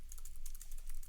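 Fingers type code on a computer keyboard, a quick close-up run of light clicking keystrokes in a steady rhythm, with no voice over them.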